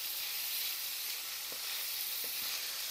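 Liver and onions saute in a pan with a steady, close hiss of sizzling and a few soft clicks of stirring, no voices over it.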